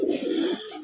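Homer pigeons give a brief, soft, throaty coo that rises and falls once, close and clear, with no voices.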